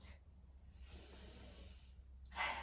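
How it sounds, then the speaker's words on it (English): Slow, deep breaths drawn and released during a yoga session, a soft airy inhale followed by a stronger exhale near the end, close and quiet. "Breathing in nice and deep."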